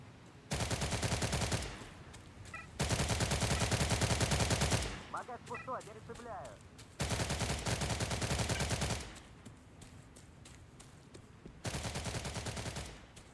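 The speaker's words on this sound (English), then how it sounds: "There's someone in this direction that was shooting at me." Bursts of rapid automatic gunfire in a video game, four long sustained volleys of dense, loud shots separated by brief quieter gaps with scattered sound effects, no voices.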